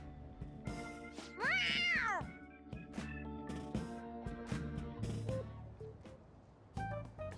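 A cat in Persona 5 Royal lets out one loud, drawn-out meow early on, set against steady game music and soft effects.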